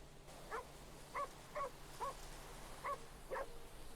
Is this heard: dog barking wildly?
yes